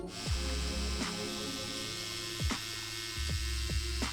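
A tattoo machine fitted with a 7-round liner needle, set about 4 mm out of the cartridge and working on real skin, gives a steady electric buzz. Several brief bumps and shifts in pitch rise through the drone.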